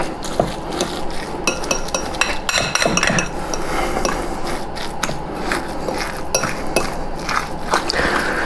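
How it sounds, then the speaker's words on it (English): A fork mixing breadcrumbs into a rice, eggplant and meat meatball mixture in a bowl, with rapid repeated clinks and scrapes of metal against the dish, close and busy throughout. "I'm going to continue mixing with the fork"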